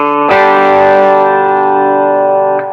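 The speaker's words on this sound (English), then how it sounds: "If I hit my D string" A single electric guitar D string on a Yamaha Revstar plucked once, ringing out clearly with a long, bright sustain and a slight effects shimmer.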